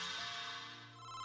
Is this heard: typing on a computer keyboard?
no